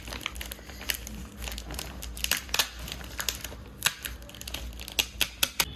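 Tape peeled off paper wrapped around homemade heart-shaped chocolates: irregular crinkly crackles and sharp rips, close and clear, growing into quick bursts toward the end.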